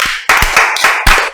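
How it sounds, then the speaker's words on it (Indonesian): An audience claps on cue during an Indonesian podcast with university admissions staff, a brief burst of several sharp, close hand claps in quick succession with no talk over it. "Tepuk tangan dong"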